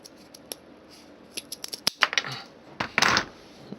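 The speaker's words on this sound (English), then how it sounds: "That's going to have to be cut down again from this side." Scissors snipping material to frame the belly of a clockwork owl, a few scattered quiet clicks building to a quick cluster of crisp cuts and a brief rustling scrape, close and alone.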